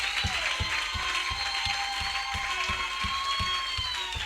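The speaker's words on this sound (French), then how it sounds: "J'aimerais qu'on acclame pour la parole si on a aimé ça" A church congregation applauds after a French-language sermon, steady dense clapping with sharp regular low thumps and a sustained tonal wash of music or voices behind it.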